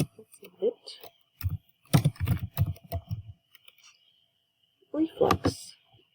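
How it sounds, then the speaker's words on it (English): Computer keyboard keys being typed in short bursts of clicks, with a person talking between and over the keystrokes. "So I'm just going to type in reflux."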